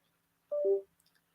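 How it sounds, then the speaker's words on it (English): Short electronic tones from a mobile phone plugged into a computer to charge, a brief two-step beep lasting under half a second, followed by a few tiny faint clicks in an otherwise quiet room. "I don't know if you're hearing these noises, but it's just that I have the phone plugged into the computer charging it."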